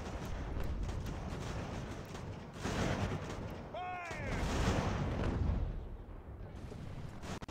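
Artillery fire in the video game Ultimate General: American Revolution, at the Battle of Montreal: faint, distant booming volleys roll on continuously, with a brief whistling streak in the middle.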